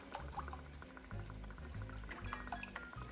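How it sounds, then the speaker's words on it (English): Beef bone broth pours into a pot in a home kitchen, a soft close liquid gurgle and splash lasting a few seconds. "I've got some beef bone broth. We're gonna need 3 cups of this."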